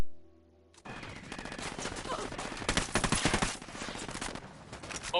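Sustained gunfire from the shooter game Tom Clancy's Ghost Recon Wildlands, starting abruptly after a brief quiet and continuing as rapid, loud automatic bursts with overlapping shots.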